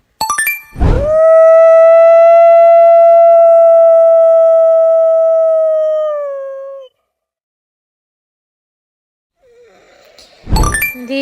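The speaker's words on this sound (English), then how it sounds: "This is wolf. Wolf says ow, ow." A wolf lets out a long, loud, sustained howl with a steady pitch that trails off after several seconds, bracketed by brief sharp sounds at the start and end.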